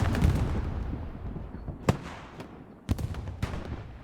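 Gunfire from a gun emplacement in a World War II video game, with sharp, separate reports over a dense, rumbling battle din, some shots louder and nearer, with no voices.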